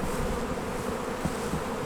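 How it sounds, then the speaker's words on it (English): A continuous droning hum of many honeybees swarming over strong split beehives set out on pallets, heard close and steady throughout without voices. "See all the bees buzzing."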